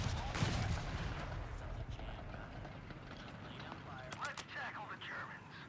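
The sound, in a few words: gunfire from heavy AT gun in Company of Heroes 3 video game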